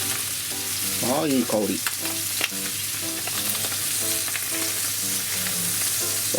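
Chicken thigh fries skin-side down in a pan, pressed to crisp the skin, giving a steady loud sizzle and crackle throughout while a person speaks briefly over it.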